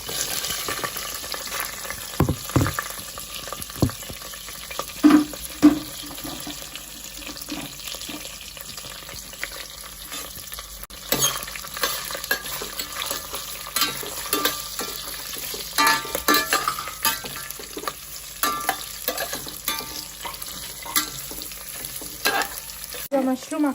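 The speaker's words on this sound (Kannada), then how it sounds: "ಈಗ ಈರುಳ್ಳಿ ಹಾಕ್ತಾಯಿದ್ದೀನಿ" Onions dropped into a pan over a low flame, frying with a continuous sizzle and irregular scrapes and clacks of a utensil stirring, close and without talk.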